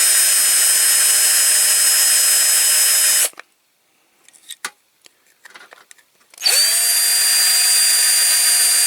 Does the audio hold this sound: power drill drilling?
yes